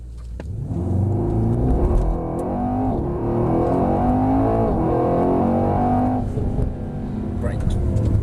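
A Mercedes-AMG car accelerates hard at full throttle on a track, a loud, steady engine roar rising in pitch through the gears as heard from inside the cabin.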